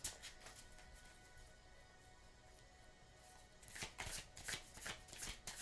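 Tarot cards being shuffled, a soft steady riffling through the first half that turns into louder, brisk bursts of card slaps and flutters near the end, close and without any voice.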